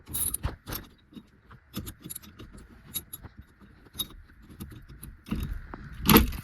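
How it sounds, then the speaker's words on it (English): A steering wheel puller being ratcheted to pull a steering wheel off a car, heard as a series of irregular metallic clicks and clanks that get louder toward the end, with no talking. "Then you just ratchet that, and these bolts will hold onto the steering wheel, and it'll push off and bring the steering wheel out."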